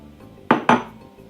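Two sharp cracks of eggs struck against a medium-sized bowl, quick and close together, near and loud in a quiet kitchen while making Baileys French toast.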